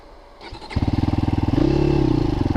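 A Christini AWD 250DS all-wheel-drive dirt bike engine fires up close by after a brief clatter, settles into a steady pulsing idle, then revs higher with a rapid, even beat.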